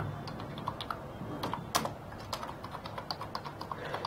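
Rapid, irregular clicks of text being typed on a computer keyboard in CorelDraw, close and distinct over a quiet room hum, with one louder keystroke partway through.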